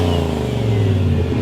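A Toyota Corolla wagon with a turbocharged LS V8 swap holds a loud, steady rev with a deep, rumbling drone that stays constant the whole time and never drops, close by with no talking.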